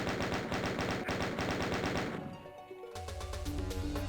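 Rapid, loud gunfire rattles continuously in Doom on the Stardate20x6 MAP07 level, then gives way to other in-game sounds and a low musical tone.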